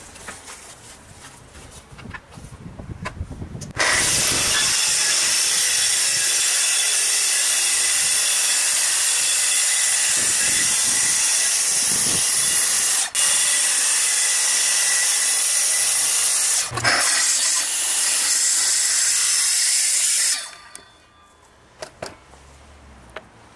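A power saw rips through solid ash wood, cutting slices in one long, loud, steady run of about sixteen seconds that starts abruptly and stops just as sharply, with two brief dips partway through the cut.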